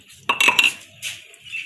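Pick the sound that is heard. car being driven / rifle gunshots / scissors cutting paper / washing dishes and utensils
washing dishes and utensils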